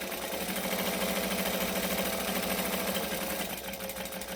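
A sewing machine runs steadily forward and back while stitching a zippered pocket, a continuous close mechanical whir with fine rapid needle rhythm that shifts slightly near the end.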